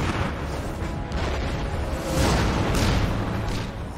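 Tank shells striking Canadian tanks in a close-quarter battle in a town square, dense booming blasts and rumbling impacts in a chaotic, loud wash.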